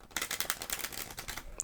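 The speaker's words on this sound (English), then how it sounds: "I will give it a good shuffle again" Deck of playing cards being shuffled up close, a quick run of crisp, papery riffling clicks over under two seconds, with a sharper snap at the end.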